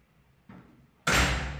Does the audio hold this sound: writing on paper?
no